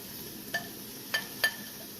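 Softened onion being mixed in a pan while making Irish colcannon, three light metallic scrapes and clinks of a utensil over a low steady background hiss.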